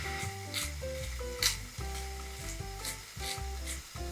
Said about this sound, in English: Stir fry again.